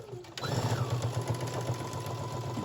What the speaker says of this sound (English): I'm just going to sew this all the way down